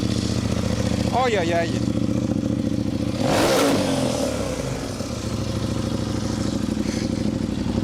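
Motorcycle fitted with a cheap AliExpress exhaust, its engine running loud and steady with a rasping revving burst partway through. People talk nearby over the engine noise.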